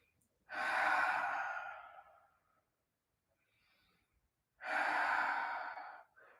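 Two long, audible breaths during a rocket-inspired all-levels yoga flow, each a loud, airy exhale lasting over a second with a quiet pause between them, close to the microphone.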